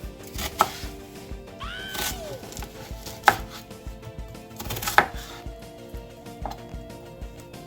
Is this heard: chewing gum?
no